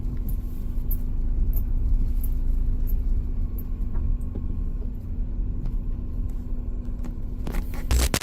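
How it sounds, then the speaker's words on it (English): A car drives down a dark road near a campsite at night, heard as a steady, faint low rumble that continues without a break, with a brief louder scrape or crackle at the very end. "There's definitely somebody just driving down here."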